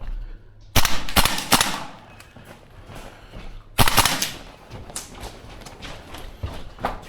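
A Tokyo Marui AKM gas blowback airsoft rifle fires in a close-quarters course: two sharp volleys of rapid, loud snapping shots, each followed by scattered clacks and footstep-like knocks, close by with no talking.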